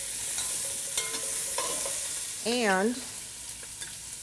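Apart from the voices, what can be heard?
chopped onion and carrot frying in lamb shank drippings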